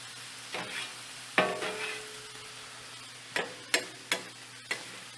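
Ground beef and onions fry in a pan with a soft background sizzle, broken by several sharp scrapes and taps as a utensil stirs and chops the meat.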